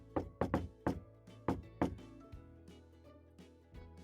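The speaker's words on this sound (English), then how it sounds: "Did my thing pick up the knocking noise?" Knocking on a door: a quick burst of about seven firm knocks in uneven clusters, close and resonant, followed by softer, fainter thumps trailing off.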